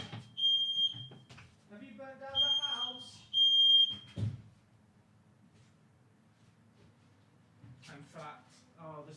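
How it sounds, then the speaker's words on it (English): A household smoke alarm sounds in repeated high-pitched electronic beeps, loud and close. It goes off in short bursts between spoken phrases, and a voice talks over it for most of the stretch before the beeping stops and the room falls quiet. "Why is the fire alarm going off?"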